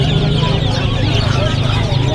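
Rhode Island chicks and chickens at a Bocaue pets and livestock market cluck and cheep in a dense, continuous chorus close by, with people talking underneath.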